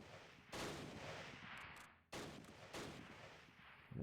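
Gunfire in the video game Close Combat: The Longest Day during a Pegasus Bridge battle with half-tracks and mortars: dense bursts of distant rattling fire and booms roll on in long sustained stretches, broken by one brief pause.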